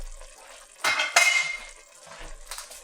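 A spoon stirs freshly picked, chopped thyme into a cooking pot, producing a few short metallic scrapes and clinks against the pot.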